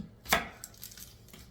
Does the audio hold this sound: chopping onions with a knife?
yes